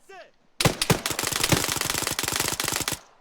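Rapid automatic gunfire in Arma 3, a close, loud burst of evenly spaced shots running for more than two seconds after a brief faint whistle, with no talking.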